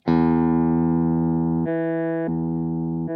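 A guitar's low E note, pitch-shifted an octave up by a Digitech Hammer On pedal, rings out as a loud, sustained harmonic tone that abruptly steps between pitches several times, with no talking.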